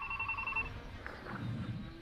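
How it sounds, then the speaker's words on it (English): A household telephone rings once during a late-evening livestream, a short bright electronic tone lasting under a second, followed by low room noise and faint movement. "the phone just rang"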